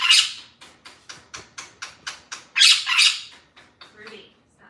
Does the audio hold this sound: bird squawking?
yes